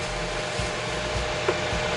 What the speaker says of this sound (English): Sorry for the background noise of the grill, but it is a very audible grill